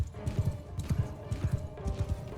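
Horse archers' hooves clip-clop in quick repeating pairs across the battlefield of the Bannerlord game with the Shokuho mod, a soft rhythmic trot at moderate distance with no voices.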